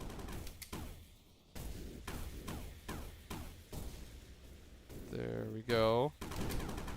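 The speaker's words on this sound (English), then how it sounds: "I'm gonna shoot my way over there." Video game gunfire in Sandustry plays out as a rapid series of sharp repeated shots blasting through sand, joined by a rising warbling whir near the end, with a brief spoken remark over it.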